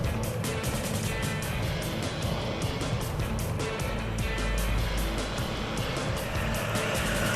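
Race cars in a motor race, one overtaking another on track, giving a loud, continuous engine roar with layered passing vehicles and steady high-pitched whine throughout, no pause.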